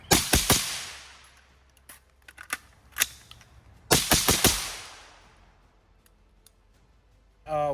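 Pistol gunshots on an outdoor range during a simple shoot-and-reload drill: a quick burst of sharp reports, a pause with scattered clicks and single shots, then another rapid burst with long decaying echoes, all without speech.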